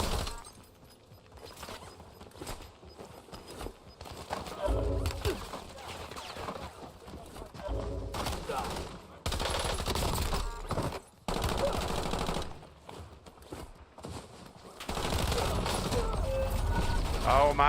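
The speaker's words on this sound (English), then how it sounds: "we had 3 people shooting at us" Gunfire from several players shooting at once in the Call of Duty Warzone video game, with loud bursts and rapid mechanical clatter coming in waves and a busy mix of game sounds throughout.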